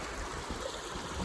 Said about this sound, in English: Still hanging out here at this creek.